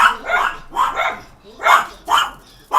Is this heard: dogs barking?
yes